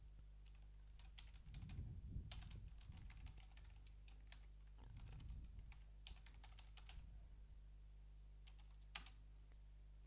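Rapid keystrokes on a computer keyboard come in two clustered bursts with a few isolated clicks after, close and fairly quiet over a steady low hum.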